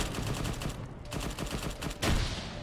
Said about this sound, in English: They're now shooting out the dismounts.